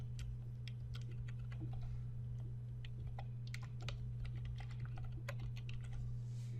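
Keys clatter steadily on a computer keyboard as an invoice description is typed in recurring-billing software, scattered clicks over a constant low electrical hum.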